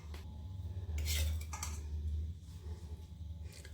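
Oil being stirred little by little into a homemade carrot, radish and green chili pickle with a spoon, giving faint clinks and scrapes against the bowl over a steady low hum, with no speech.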